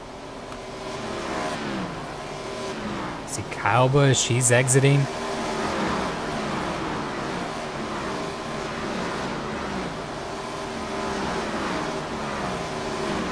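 Race car engines whine and drone steadily as cars roll down pit lane in the iRacing sim at Iowa, with a louder revving pass midway and a commentator talking over the engines.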